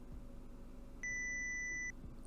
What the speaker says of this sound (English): a high-pitched electronic sound blaring from Mayuri's phone